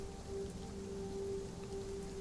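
Heavy rain comes down full force in a steady, even wash of noise with a faint constant hum underneath and no voices.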